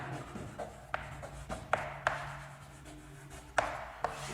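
Chalk or marker writing on a board during a physics lesson, heard as a quiet, uneven series of sharp taps and short scratchy strokes over a low steady hum, with no talking.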